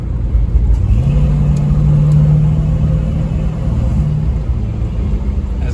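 A car with a two-barrel carburetor engine accelerates while driving: a loud, steady engine rumble whose pitch climbs and holds as it pulls, with road noise and no talk.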